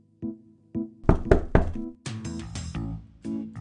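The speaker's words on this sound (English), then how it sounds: "Cinderella was cleaning her stepfamily's house when she heard the knock" A door knocks several times in Arthur's Puppet Theater game: two soft single taps, then a quick cluster of sharper raps, followed by heavier thuds, all close and with no voices.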